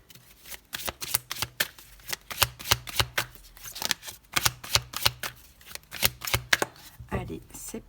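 Tarot cards are shuffled and handled close up, a rapid series of crisp riffling flicks and slaps in bursts, with faint talk in the background.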